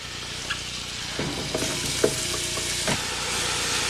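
Butter and oil sizzle steadily in a heavy pan as a pestata for white bolognese begins to cook, with a continuous frying hiss and a few soft stirring clicks and scrapes.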